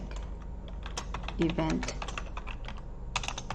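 Rapid clicking of fingers typing on a computer keyboard, a steady run of close, dry key taps with a faint word spoken partway through.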